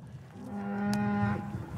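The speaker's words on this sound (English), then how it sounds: "the cow you hear over here yelling is Rocky's mom" A cow bellows one long, drawn-out moo that swells and then fades, fairly close by, over a low outdoor background.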